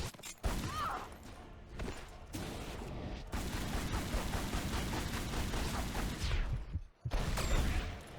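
Dense bursts of video game gunfire from Tomb Raider Anniversary ring out loudly and almost continuously, rapid shots piling up with crashing impacts before a short break and a final burst.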